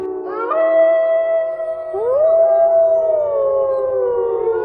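A cartoon parrot imitates a female fox call: two loud, drawn-out howls, each sliding upward and then wavering steadily, the second following after a short break.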